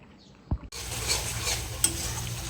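Spices fry in hot mustard oil: after a couple of light clinks, a sudden loud, steady sizzle bursts out, with a spoon scraping and stirring through it and a sharp metallic tap near the end.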